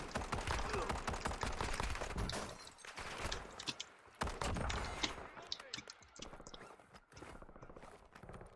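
Rapid automatic fire from a Razor 9mm in the shooter game Warzone, rattling in dense bursts over a full battle mix of other shots and movement, fading to sparser pops.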